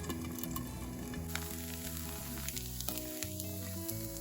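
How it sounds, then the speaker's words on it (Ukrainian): Steady sizzling of a potato pancake frying in a pan, a continuous crackle with faint background music running underneath. "Викладаємо картоплю отаким ось кругленьким оладком і смажимо гарненько."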